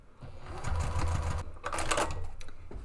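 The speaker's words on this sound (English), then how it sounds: "So now I want to add 2 rows of top stitching across the top of that" Sewing machine top stitching two rows across a planner cover pocket stiffened with a double layer of SF 101 interfacing: a rapid mechanical whirring run, a brief pause, then a second burst of stitching, close and clear, with no talk.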